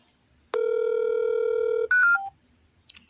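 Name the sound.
telephone redialing with DTMF tones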